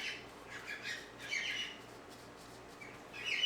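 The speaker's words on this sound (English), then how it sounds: "I guess I should have mentioned the birds. They're getting fired up now." Birds squawk and chirp outside a craft room studio with a window air unit, bursts of calls coming and going in clusters over a steady low hum of the unit.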